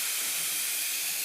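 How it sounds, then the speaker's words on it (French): Beef pieces searing in a hot pan for a stroganoff, a loud, dense, continuous hiss and sizzle that stays steady throughout with no talking. "faut juste que la viande soit saisie, qu'elle soit saignante"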